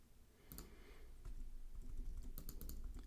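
Fast clicking keystrokes on a computer keyboard, quiet and close over a steady background hiss, with a few sharper clacks near the start and the end.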